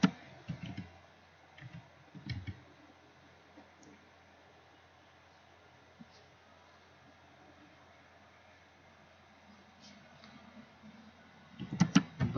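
Sparse clicks of typing on a computer keyboard while text is entered into a document cover page, a short burst near the start, scattered single taps, then a quicker cluster at the end, close and fairly quiet.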